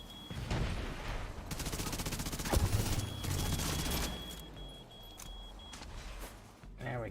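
Sniper and automatic gunfire in Tom Clancy's The Division 2, bursts of shots and a sharp crack over rumbling in-game noise, with talk over the action.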